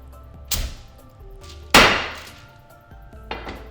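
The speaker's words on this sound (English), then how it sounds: "taking a cast iron skillet, because ultimately we're going to cook our patties in this anyway, and we are smashing the patty" A cast iron skillet smashes a burger patty in three sharp, heavy thumps spaced about a second apart, with the middle impact loudest and ringing briefly, close and without talk.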